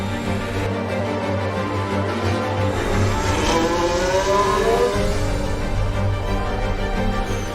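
Formula 1 race cars roar through a late-race battle, Kevin Magnussen and Valtteri Bottas closing in on a rival, a steady loud engine drone with rising and falling whines as cars pass near.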